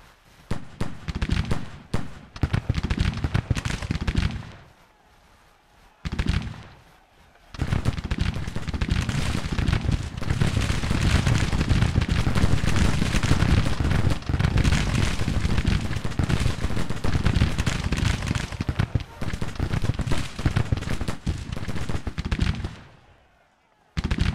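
Musket volleys in a Civil War video game: a dense, sustained crackle of massed gunfire from several regiments, loud and continuous for long stretches, broken by brief pauses and a short gap of quiet.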